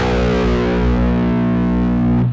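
Low B note struck on a six-string guitar tuned far down, played through heavy distortion: one sustained, buzzing chord-like drone ringing for about two seconds before cutting off, loud and alone.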